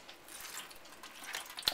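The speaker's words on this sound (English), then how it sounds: "and then juice your lemon" Juice squeezed from a lemon drips and splashes into a baking tray of apple cider or apple juice for Memphis-style wet baby back ribs, with soft, faint wet squishing and a few light drips.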